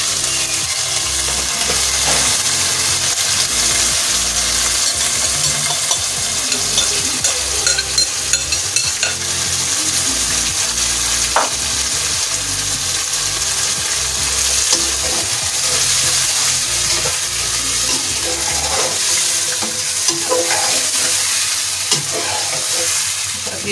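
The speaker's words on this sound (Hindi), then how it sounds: "5 से 10 मिनट तक तेज आंच पे इसकी बुनाई करें अच्छी तरह।" Chicken tikka fries on high heat with a loud, constant sizzle while a utensil stirs and scrapes the pan in irregular, close strokes.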